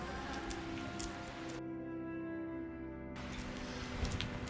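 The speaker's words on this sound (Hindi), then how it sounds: "आज तो पूरी रात से बरसात लगी हुई है" Monsoon rain falls steadily outside a mountain homestay in Mukteshwar, a dense even hiss that turns briefly muffled in the middle before returning.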